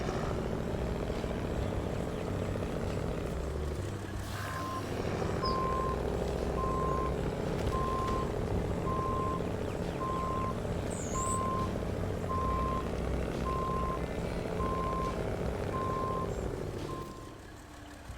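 A highway truck reverses in the SnowRunner video game, its steady engine drone joined by a long run of evenly spaced reversing beeps, loud and close, with no talking.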